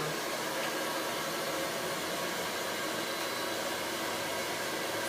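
A hair dryer runs steadily during a salon blow dry on thick, long hair, a loud, close, continuous whooshing roar of airflow with no breaks or talk.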